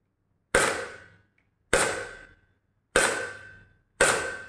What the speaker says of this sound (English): well, let me just shoot this